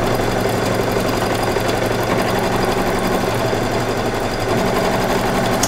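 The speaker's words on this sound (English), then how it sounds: "So color number 3 is being stitched out" An embroidery machine stitches out an in-the-hoop Christmas tree ornament, a steady fast mechanical chatter and hum that runs loud and unbroken throughout.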